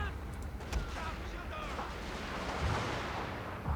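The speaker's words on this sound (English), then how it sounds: "So the skirmishers are firing down on their flanks." Skirmisher rifle volleys in the Shogun 2: Fall of the Samurai battle game, scattered muffled shots and booms over a dense rumbling battlefield din, with voices mixed in.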